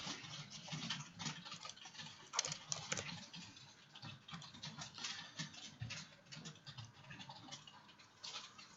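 Continuous close typing of HTML code on a computer keyboard, a busy patter of clicks with occasional louder strokes and no voices over it.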